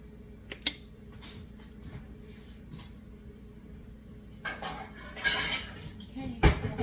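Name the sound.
getting out a bowl, dishes clinking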